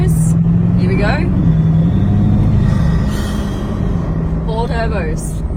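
Bugatti Divo with a quad-turbo engine accelerating: a loud, steady low drone rising in pitch, with talking over it throughout.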